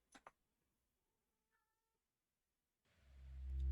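A kitten gives a faint, short meow, followed by quiet pauses and then a swelling rumble of handling noise close by.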